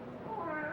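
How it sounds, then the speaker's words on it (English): A cat meows in a graveyard at night, a drawn-out, wavering cry that rises in pitch, fairly close and moderately loud over a dim background hum. "how often have I told you to keep that cat from desecrating my graves?"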